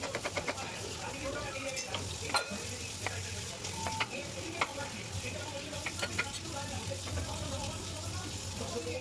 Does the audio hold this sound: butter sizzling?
yes